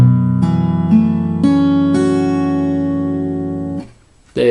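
Acoustic guitar in standard tuning with a capo on the 2nd fret, several strings plucked one after another and left ringing together in a clear, close sustained chord that fades out, with a brief handling noise at the end.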